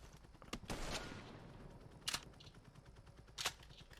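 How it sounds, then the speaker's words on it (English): Shotgun blasts during a door breach in the video game Call of Duty Black Ops Cold War: three sharp, separate shots roughly a second and a half apart, fairly quiet against a low background. "I'm gonna breach it with a shotgun"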